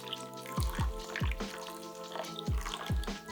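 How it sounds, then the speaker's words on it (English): Sprite trickling and dripping into a marinade for a whole roast pig, a series of wet splashes and drips in irregular bursts, close and fairly quiet, with no talk. "Now we're gonna take our Sprite, of all things, and we're just gonna gently start to add that in."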